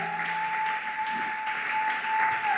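A church congregation applauds to acclaim the Lord: a dense, steady wash of clapping that holds at an even level throughout, with a thin sustained tone running over it.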